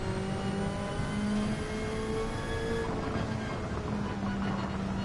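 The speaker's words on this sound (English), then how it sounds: "rev it out" A car engine revving high in the Gran Turismo 7 racing game, a sustained whining drone with shifting pitch held under steady tire and track noise, with no talking.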